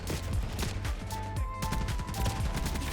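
Rapid automatic fire from an STG-44 assault rifle in the shooter Black Ops 6, loud and close, with dense overlapping shots in a continuous burst and no talk.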